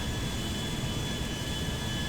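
A Boeing 737-800 mod jet in GTA 5 runs at idle power on approach, a steady broad engine roar with a faint thin whine, continuous and even, no voices.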